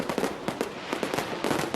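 Fireworks for July celebrations crackle in a dense, continuous volley of rapid pops and bangs. The sound stays loud and busy throughout the short burst, with no voices.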